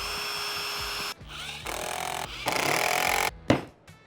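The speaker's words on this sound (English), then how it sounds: "Now I need to drill a couple of holes in the center" A power drill bores a couple of holes into a board cut to 24 inches, its motor whining in several sustained bursts, shifting pitch as the bit bites, with brief gaps between runs.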